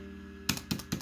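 Three crisp computer keyboard key presses land about a quarter second apart after a brief quiet lead-in, close and distinct, with no talking, while a point-of-sale tablet menu is operated for a kids' café ordering system.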